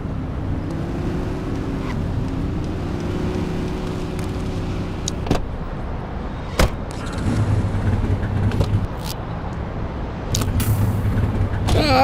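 A car driven in The Precinct, its engine a steady hum with shifts in pitch as it moves, broken by a few sharp clicks and knocks.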